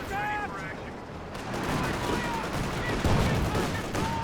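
Gunfire from a Panzer IV tank in Company of Heroes 2, a dense, continuous battle din of shots and blasts rolling on for several seconds, with a brief voice early on.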